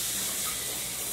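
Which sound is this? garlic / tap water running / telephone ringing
tap water running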